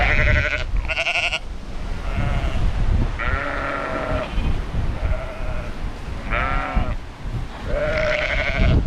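Lambs bleat again and again at close range, their calls overlapping in bursts above a busy farmyard background of animals shuffling.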